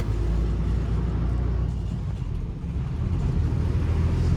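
Steady low engine rumble from inside an Uttarakhand transport bus on the move, a continuous drone with road noise and no voices.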